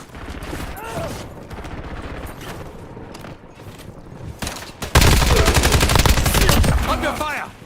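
Bursts of automatic gunfire crackle through a Warzone firefight, scattered shots early, then a dense, loud sustained volley of rapid fire, with faint game voices underneath.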